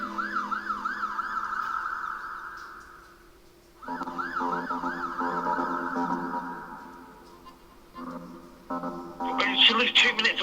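An ambulance siren wails in repeated rising-and-falling sweeps at moderate distance, cutting out twice and starting up again, with a harsher burst at the end.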